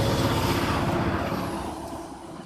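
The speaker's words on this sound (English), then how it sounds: "You know why we've been having these mucho grande trucks drive by us lately?" A large truck rumbles past close by, a loud, broad roar of engine and tires that gradually fades as it moves away.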